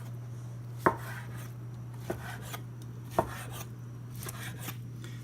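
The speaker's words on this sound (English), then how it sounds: "And then just start slicing into it." A knife slices through a rested, oven-cooked steak on a board: a few sharp, separate cutting strokes spaced about a second apart, close and clear, over a steady low electrical hum.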